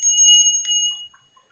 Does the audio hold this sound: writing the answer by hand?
no